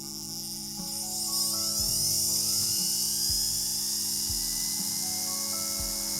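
A Vevor flex shaft carving tool's motor spins in reverse with a shrill, buzzing whine like a dental drill, steady and close, punctuated by soft low clicks, with no one talking.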